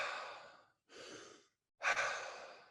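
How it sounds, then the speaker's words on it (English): Deliberate fast breaths from a dynamic breathwork exercise, three forceful airy inhales and exhales separated by short silent pauses, the last one the loudest, close and clear with no talking. "We're going to start with 40 controlled hyperventilated breaths that look"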